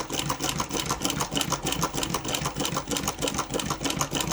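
A restored Cornely A chain stitch embroidery machine stitches letters, giving off a close, busy rattling clatter with quick repeated needle strokes and brief changes in pace as the work turns.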